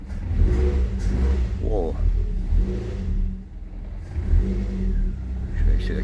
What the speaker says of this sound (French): Je vais essayer d'accélérer un petit peu.